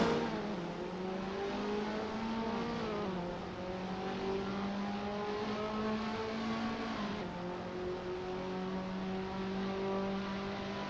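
Several KTM X-Bow R race cars roar around the Monza circuit in the Assetto Corsa racing game, with steady layered engine drones rising and shifting in pitch as the cars accelerate together, with no talk over them.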